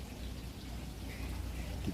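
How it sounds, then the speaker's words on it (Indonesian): Light drizzle falling outdoors beside a grill slow-cooking beef tenderloin, heard as a steady, soft, faint hiss of fine rain with low rumbling background and no voices. "Oh masih gerimis."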